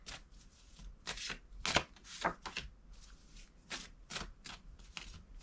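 A deck of Dreamology oracle cards is shuffled by hand, with a quick run of crisp, close riffling bursts and slaps in an irregular rhythm and no talking.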